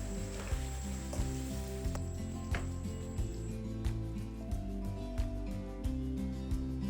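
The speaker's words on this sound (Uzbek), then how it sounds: "Qovurilgan mahsulotlarga 100 gram slivka, ta'bga ko'ra tuz, quritilgan sarimsoq, piyoz va ozgina murch qo'shib, bitta qaynab chiqqach chetga olib sovutib qo'yamiz." Fried pizza filling with cream, salt, dried garlic, onion and pepper simmers in a pan, giving a steady close sizzle and bubbling with faint periodic clicks and no talking.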